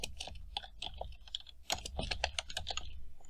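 C++ code being typed on a computer keyboard, with rapid uneven bursts of close, crisp key clicks and a few short pauses.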